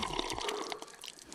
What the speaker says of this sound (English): Water.